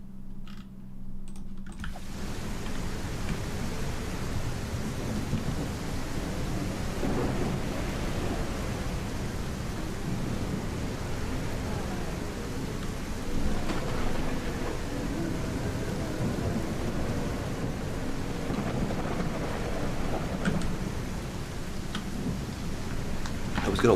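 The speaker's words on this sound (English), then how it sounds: "we'll go daytime and thunderstorms." Thunderstorm ambience in the CastleMiner Z video game: steady broadband rain hiss with low rumbling thunder that holds continuous and fairly loud throughout, with no talk.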